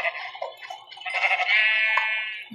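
Video game sheep bleat in quick succession, one call stretching into a long wavering baa, close and loud against silence, no voices.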